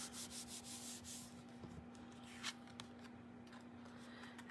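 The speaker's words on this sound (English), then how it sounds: "Give it a good rub" A paper card is rubbed firmly by hand in repeated scratchy strokes, close and fairly soft over a steady low hum, the rubbing thinning out into a few scattered scrapes.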